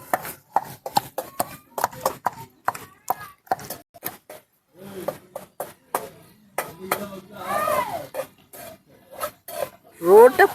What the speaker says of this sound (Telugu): ఒక పక్క దంచుతున్నారు పచ్చడిని